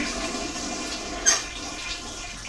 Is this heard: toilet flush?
yes